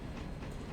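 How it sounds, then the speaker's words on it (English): A model train rolls in a train simulator, a brief faint steady rumble of wheels on track. "I got the train all built up and we're rolling down into"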